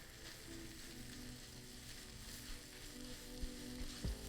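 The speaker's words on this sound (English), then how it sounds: "let's go ahead and add our beef. Just going to break this up in the pan." Shaved beef fries in a hot pan with a steady, dense sizzle throughout, close up, broken near the end by a couple of scraping knocks as the meat is stirred and broken up.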